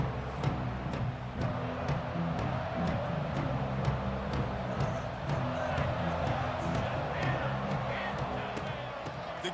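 A stadium crowd roars steadily in a college football video game, College Football 26, as a dense, continuous wash of cheering under the game commentary.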